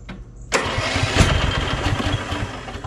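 A lawnmower engine cranks and catches at about half a second, then runs steadily with a rough, loud idle after a brief quiet lead-in.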